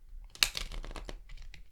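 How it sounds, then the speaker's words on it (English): Stiff, thick-cardstock Mystic Mondays tarot deck being shuffled, a quick burst of crisp card riffles and flicks, close and moderately loud, then fading into lighter scattered clicks. "this deck is unfortunately very stiff and very difficult to shuffle with"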